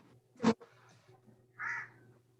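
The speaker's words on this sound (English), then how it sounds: "That's the crow behind you." A single crow caws once in the background behind a quiet indoor room, a short hoarse call standing alone over a faint low hum.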